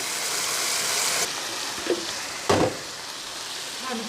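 Fire roasted tomatoes sizzle steadily in a hot pan, a continuous broadband hiss that briefly quiets partway through, with a few soft stirring scrapes and clatters standing out over the frying.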